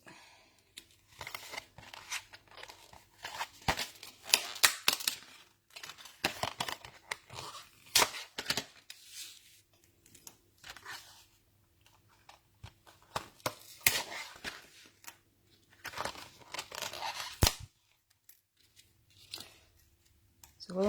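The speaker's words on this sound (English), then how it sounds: "And I'm going to cut some hexagons from this." Scissors snip repeatedly through Rainbow Designer Series patterned paper to cut out hexagons, producing crisp, close clicks and crunchy slicing strokes in irregular bursts with short pauses between runs of cuts.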